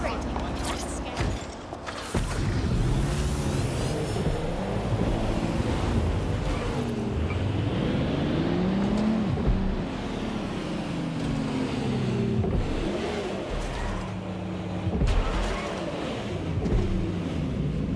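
Car engine accelerating in the video game Watch Dogs: Legion, a rising mechanical drone that swells and shifts pitch over many seconds, with a voice talking over it throughout.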